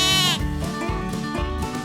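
Nigerian Dwarf goats on a farm: a loud, tremulous bleat opens, followed by further wavering bleats close to the microphone, all within under two seconds.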